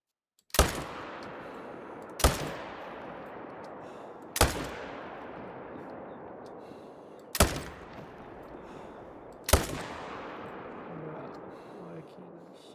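Five sharp rifle shots ring out in the Call of the Wild hunting game, spaced a couple of seconds apart, each a loud crack followed by a long rolling echo that fades before the next.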